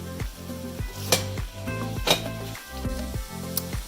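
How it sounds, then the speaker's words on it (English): Steady sizzling and crackling of meat in a hot pan for cottage pie, with clattering utensil strikes and scraping sounds repeating every second or so, close up. "as you can see and hear all that sound of meat sizzling"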